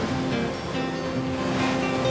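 Surf rolling in along Taiwan's northeast coast near Fulong, a steady wash of breaking waves with a windy, broadband roar, close and continuous throughout with no voices.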